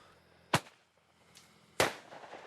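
Fireworks set off by a villager to scare away an elephant, two sharp bangs over a second apart, the second louder with a crackling tail, plus a fainter pop between them in an otherwise quiet outdoor setting.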